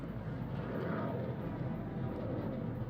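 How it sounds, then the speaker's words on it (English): A jet aircraft passes overhead as a broad, steady roar that fills the background, moderately distant and continuous throughout, with no talk. "Can you guys hear that jet flying overhead?"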